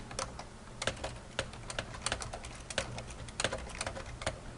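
Typing on a computer keyboard, with quick, irregular, close clicks and clacks of the keys in a steady stream, no voices.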